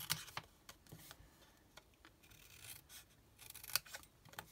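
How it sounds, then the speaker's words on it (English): Scissors snip through a sheet of patterned 12x12 designer paper, cutting from a corner to the middle in a few faint, crisp strokes, close by and quiet, with no talk. "all I'm going to do is cut from the corner straight to the middle"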